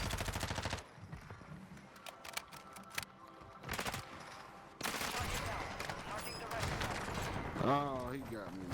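Heavy machine gun fire in a shooter video game: long bursts of rapid shots alongside single cracks, with a voice talking over the gunfire.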